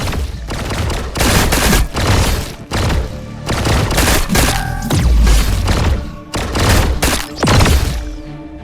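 Video game gunfire: dense bursts of loud shots and booming impacts in several clusters, with brief gaps between volleys.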